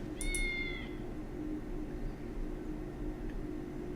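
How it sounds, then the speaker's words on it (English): A cat in the Baldur's Gate game meows twice in quick succession near the start. The meows are clear, then fade, leaving a low background hum with a faint chirp near the end. "You're a cat."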